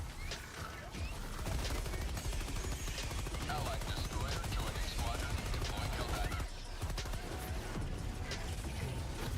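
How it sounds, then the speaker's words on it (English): Dense, continuous gunfire and explosive chaos from Helldivers 2 as a heavy machine gun fires against swarming bugs, loud and sustained throughout with crashes and impacts layered in. "Why the fuck do we have the heavy machine gun, bro?"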